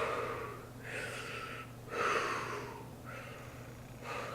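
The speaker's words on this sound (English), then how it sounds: "So that's why you always have to breathe through it." Breathing through a scuba regulator, rhythmic hissing inhales and exhales repeating roughly every second over a low steady hum, close and clear.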